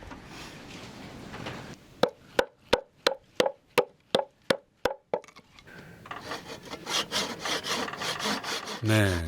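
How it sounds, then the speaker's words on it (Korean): A blade cuts wood in a remote village, Beollat in Cheongju, with about ten sharp, evenly spaced scraping strokes up close. A denser run of rasping, rubbing strokes follows. "이젠 나무 깎는 소리만 들려도 괜스레 기대가 되는군요."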